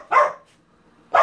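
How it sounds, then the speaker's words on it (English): A dog gives two sharp barks, about a second apart, moderately close, with near silence between them. "What are you barking at?"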